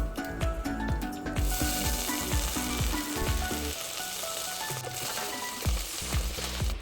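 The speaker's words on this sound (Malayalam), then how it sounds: "കറിവേപ്പിലയും ചേർത്ത് കൊടുക്കാം." Curry leaves crackle and sizzle in hot coconut oil with mustard seeds and dried red chillies for a Kerala-style roasted-coconut chicken curry, a loud, close, continuous frying hiss with dense popping spatters and a few scraping stirs.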